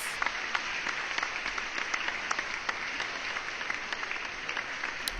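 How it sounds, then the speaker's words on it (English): A crowd applauds steadily for several seconds, dense continuous clapping at an even level from start to finish. "let me just give her a round of applause"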